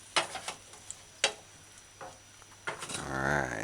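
Pork and peppers stir-frying in a pan: several sharp clacks of a utensil against the pan over a quiet background, then a soft, rising sizzle near the end, close and fairly faint.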